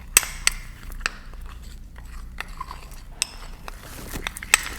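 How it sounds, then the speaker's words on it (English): A spoon scrapes and clinks against a bowl while sugar skull icing is stirred, giving sharp, irregular metallic taps over a low background rumble, close and fairly loud, with no talking. "Just grab a spoon. And you're just gonna mix this together."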